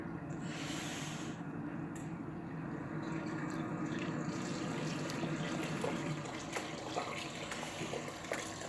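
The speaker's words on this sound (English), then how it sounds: "Someone's in the shower." Shower water running in the background, a continuous hissing spray that stays fairly steady, with faint clatters and knocks over it and no voices.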